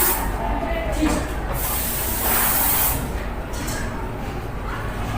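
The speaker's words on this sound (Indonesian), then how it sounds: "Di sini saya akan menyemprotkan sebuah pewangi ruangan." Air freshener sprayed into a room as a steady, close, loud broad hiss running through the whole few seconds, with brief bursts of stronger spray and no talking.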